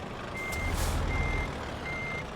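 Reversing alarm of a truck pulling a steering trailer in a trucking simulator game: three evenly spaced steady beeps over a loud, continuous engine rumble.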